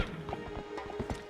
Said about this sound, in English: So you can more conveniently call Epona over to you.